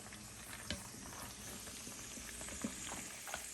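Snipe medallions, unbreaded, sizzle and bubble in a pan of melted garlic butter, a steady close crackling fry with small pops and no talking.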